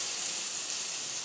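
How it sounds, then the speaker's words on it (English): Red wine and brown sugar gravy comes up to a boil in a pan, giving a steady, even hiss and sizzle close by with no pauses. "it's going to take a few to get it to where it starts to boil and the wine starts to reduce"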